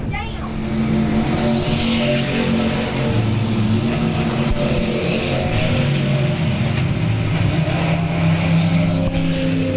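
Stock race cars at South Texas Speedway roar past in a continuous loud engine drone with shifting revs as they circle the track, while an announcer talks over the noise.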